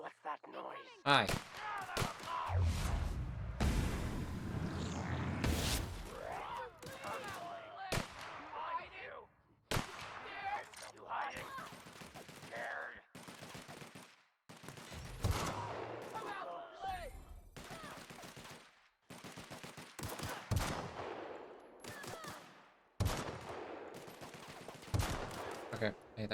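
Video game gunfire crackles in rapid volleys and scattered single shots across the whole stretch. It is loud and close, with dense bursts early on and sharp cracks returning throughout.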